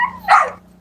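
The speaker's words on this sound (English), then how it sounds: "That just made them bark more." A single sharp, close bark from a dog, loud and brief, over a low steady hum.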